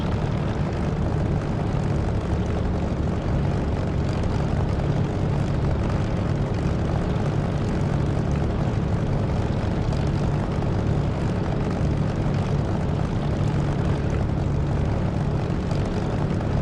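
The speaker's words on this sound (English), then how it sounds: "So right now I'm feeling the thrumming of the engine on my seat." A propeller aircraft engine in the DCS flight simulator game thrums as a loud, continuous, steady drone, a dense low rumble with no talk over it.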